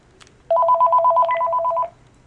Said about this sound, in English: I'm going to answer my phone